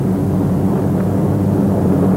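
A steady, loud drone of WWII heavy bombers coming in to land one by one after a mission, with broad low engine roar and no break.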